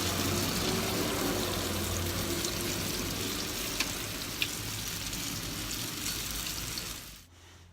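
Apple fritters frying in hot oil, a steady loud broadband sizzle that holds evenly before cutting off abruptly near the end, with no voices.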